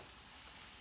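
Garlic sizzling in a hot pan for clams oreganata, with grated Pecorino Romano cheese and salt nearby; a faint, steady frying hiss that holds evenly throughout, with no voices.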